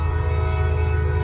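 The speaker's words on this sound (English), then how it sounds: "but still a pretty big size train. 136 cars. Just 3 locomotives up front, no DPUs." A Norfolk Southern freight train of 136 cars led by three locomotives passes close by, with a loud, sustained horn blast held over the deep rumble of the engines.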